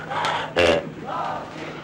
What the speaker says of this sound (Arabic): الجمهور بيحيي ابطال الماتش